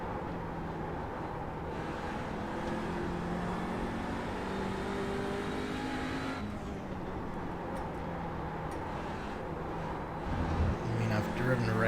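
An Audi RS3 LMS TCR race car engine drones at full throttle around Lime Rock Park in iRacing, a steady buzzing roar with shifting pitch and a louder surge near the end, with a voice talking over it.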